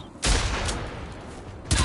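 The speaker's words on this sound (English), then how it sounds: "These SMGs are good, except they eat away your ammo reserves." SMG fire in the shooter game Generation Zero, two rapid bursts of close, loud gunshots separated by a short lull filled with lingering reverberation.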